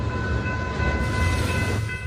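A freight train with graffiti-tagged cars rolling past, a dense continuous rumble and roar with steady clatter, close and loud, with faint tonal whines over the noise.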